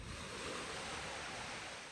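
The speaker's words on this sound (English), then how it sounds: "You can hear some water." Continuous rush of water lapping along the shore of Lake Simbi Nyaima, with wind and breeze noise on the microphone blending into a steady, close wash with no talk.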